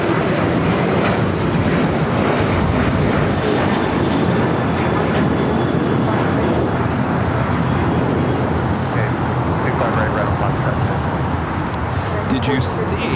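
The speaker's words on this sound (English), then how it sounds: "the Japan Airlines 777 now starting its taxi" A Japan Airlines Boeing 777 taxiing at LAX gives a steady, broadband jet engine roar that continues throughout under constant airport ambience, with a faint whine running through it.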